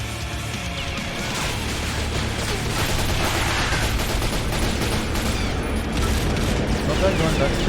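Dense, sustained gunfire and crashing bursts in the video game The Darkness, a loud continuous barrage that builds slightly, with voices faintly mixed in.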